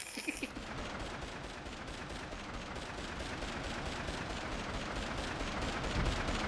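Dense, continuous gunfire in the Beverly Hills Cop video game, a steady rapid barrage of shots that fills the whole stretch at even loudness.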